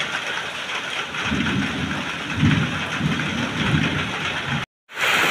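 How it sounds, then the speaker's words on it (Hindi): Heavy rain hisses in a dense, continuous roar, with low rumbling swells underneath. A brief cut to silence comes near the end before the downpour resumes. "प्रबल वर्षा"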